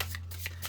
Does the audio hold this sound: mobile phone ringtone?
no